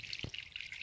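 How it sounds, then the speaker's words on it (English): Stream water running through a bark nozzle into a water bladder on the Appalachian Trail, a soft close trickle and splash with one brief low gurgle, quiet and alone. "Very easy to get my water bladder under and fill very quickly."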